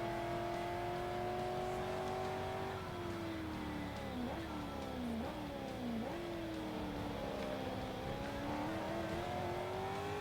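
A Corvette engine races in Forza Motorsport 3, its steady high drone rising and dropping through several quick gear shifts, sustained and fairly quiet, with no talk over it.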